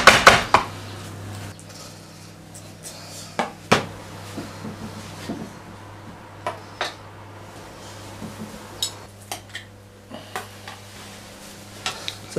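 Colcannon being put into a dish in a home kitchen, with sharp clinks and clatters of dishes and utensils at irregular intervals over a low steady hum.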